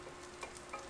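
Cauliflower and vegetables stirred in an oiled pan for a teriyaki bowl, a soft scrape and two brief clatters over a faint, steady sizzle, quiet and close.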